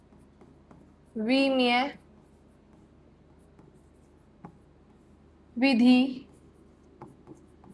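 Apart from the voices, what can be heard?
writing out the next physics question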